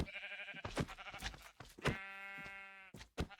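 Sheep in Minecraft bleat in a string of nasal, wavering calls, several overlapping cries close by with brief clicks between them and no talking.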